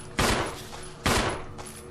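Two loud gunshots from Resident Evil 1 Remake, roughly a second apart, each with a sharp crack and a decaying tail, set against a steady low game hum.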